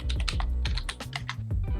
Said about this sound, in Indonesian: teman-teman pencet di keyboard itu Windows plus R, lalu teman-teman ketik shell